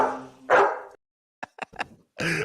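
A dog barks several times in a short news clip being played back, with two longer loud barks framing a quick burst of short yips.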